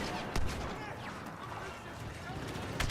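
Turbolaser fire in the Star Wars Battlefront 2 video game: sharp blasts crack out at the start and again at the end over a constant din of game battle noise.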